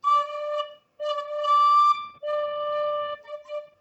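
Homemade PVC fipple whistle held on a D note, a bright, pure tone sounding in three sustained blows separated by short breaks, each with a slight wavering, followed by a few shorter fading toots.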